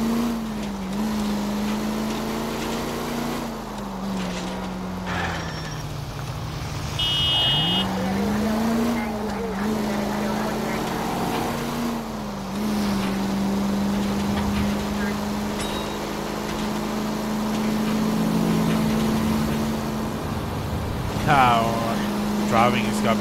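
Car engine driving in the video game L.A. Noire, a steady continuous drone with slight pitch shifts as it accelerates and eases off, fairly loud throughout with faint intermittent game sounds.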